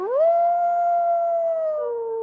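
A single long, steady wolf howl at a dire wolf exhibit in the New Mexico Museum of Natural History, rising at the start, holding a clear tone, then dropping slightly near the end, loud and close.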